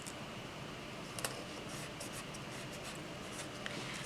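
Faint, steady scratching of a pen drawing a box in a planner, soft continuous strokes with a couple of small taps, close and quiet with no talking.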